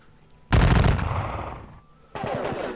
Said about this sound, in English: We're going to fire with these arquebus